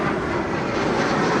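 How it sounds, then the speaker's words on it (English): A passenger airplane passes overhead near an electric vehicle charging site, a loud, steady broadband engine roar that fills the whole stretch without fading, with no talk over it. "We're going to let this plane go by really quick."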